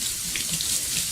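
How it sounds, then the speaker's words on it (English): Tap water runs hard and steady over chopped onion in a strainer at a sink, a close, loud, continuous splashing rush. "Run this underwater just for a second."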